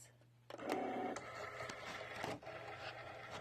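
A Cricut cutting machine takes in a cutting mat with a soft whirring, rumbling motor sound and a few light clicks and scrapes, quiet and close, over a low steady hum.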